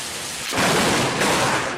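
Thunderstorm with rain: a dense hiss of heavy rainfall that suddenly swells into a loud, broad rumbling roar of thunder partway through, sustained to the end.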